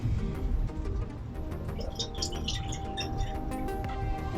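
Jack Daniel's Single Barrel Barrel Proof whiskey poured into a glass, with faint close drips and light splashes over a steady low background hum.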